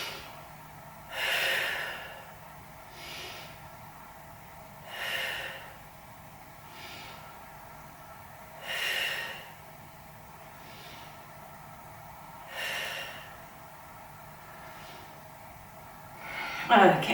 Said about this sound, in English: take 5 breaths here